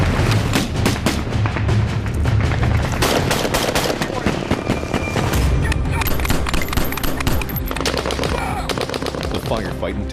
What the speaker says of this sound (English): Firefight intensifies.